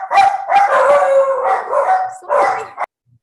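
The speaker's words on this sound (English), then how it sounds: "we've got our puppy dogs around tonight, don't we?" Several puppy dogs howl and yip together in long, wavering, overlapping cries, loud and close, in a few sustained bursts that break off abruptly.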